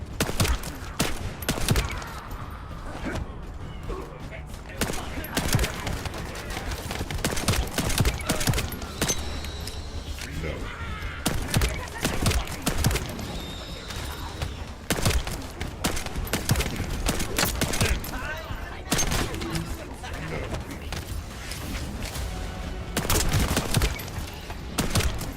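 Rapid pistol gunfire in the Warframe video game, dense bursts of shots crackling almost continuously at close range, with brief gaps and mechanical clicks between volleys.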